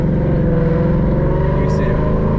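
A 2021 Ford Mustang GT with a 10-speed automatic, running an ethanol tune, accelerating with a loud, steady engine drone heard from inside the car, holding constant throughout.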